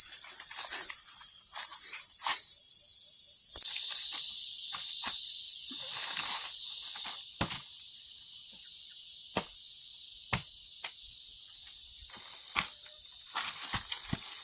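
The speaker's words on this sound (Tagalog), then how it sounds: "Tahimik sa tao. Kumaingay sa mga insekto." Insects chirp in a dense, high, continuous chorus in the countryside on a provincial farm, loud at first and then slightly softer, broken by occasional sharp clicks and taps nearby.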